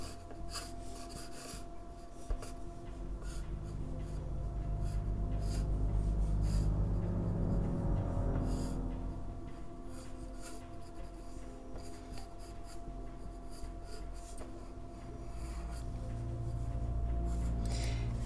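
A pencil sketching the geometric base forms of a realistic hand on paper, a steady soft scratching and rubbing that swells in the middle and carries on without pause, close and fairly quiet.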